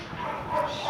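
A dog at an animal shelter gives a short, yelping bark, brief and fairly close, amid a noisy kennel background.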